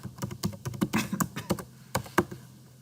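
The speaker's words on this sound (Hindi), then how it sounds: "तो मैंने यहाँ पर अपना पासवर्ड इंटर कर लिया" Fingers typing a password on a computer keyboard, a quick irregular run of crisp key clicks close by, with no talking.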